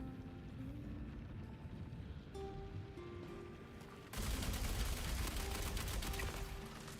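Dense automatic gunfire in the Star Citizen game, a steady low rumble of shots that swells into a louder, harsher burst of continuous firing midway through.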